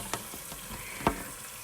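Dishes being washed at a sink under running water: a steady soft hiss of flowing water with two sharp clinks of crockery, quiet and close, no talking.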